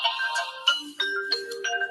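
A mobile phone ringtone plays a bright melodic pattern of electronic tones, rising and switching notes in short phrases, clear and alone with no voices.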